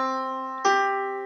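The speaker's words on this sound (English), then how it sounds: "That's the sound of a perfect fifth." Two piano notes a perfect fifth apart, the lower note sounding first and the upper one struck partway through, both sustaining cleanly together and slowly fading, close and alone.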